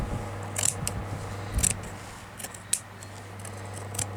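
Scissors snip through fabric for a patchwork journal cover, a few short crisp cuts spaced irregularly over a quiet room hum, with no talking.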